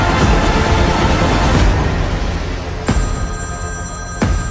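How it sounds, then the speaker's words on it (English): A telephone bell rings loudly in sharp repeated bursts, each ring ending in a ringing tail, with a low tense rumble running underneath. "Pick up the phone, James!"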